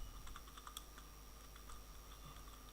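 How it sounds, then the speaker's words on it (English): Keys being typed on a computer keyboard, a quiet, steady patter of clicks at an irregular pace, heard alone at low level. "I'm going to type the subject"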